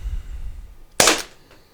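A single sharp crack from an Umarex PDP launcher, one loud snappy report that rings out briefly and fades quickly against a quiet room.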